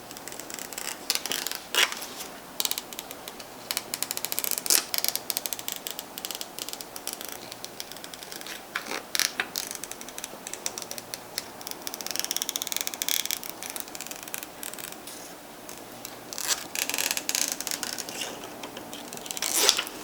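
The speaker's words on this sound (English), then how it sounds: "I'm going to go ahead and cut around a lot of these letters" Scissors or a blade snip steadily through a sheet of Siser Easy Puff glitter heat-transfer vinyl, cutting around letters with a dense run of small crisp clicks and crinkles, close and continuous.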